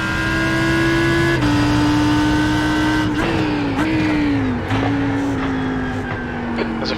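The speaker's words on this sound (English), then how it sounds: "There's a faster car approaching." A faster GT3 race car in iRacing's multiclass IMSA GTD session at the Nürburgring GP circuit closes in, its engine tone steady and loud, with gear shifts and pitch dips as it approaches.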